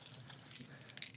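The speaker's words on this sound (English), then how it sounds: "keys" Keys jangling faintly in a brief, soft clink of metal close by, a few light taps over quiet background.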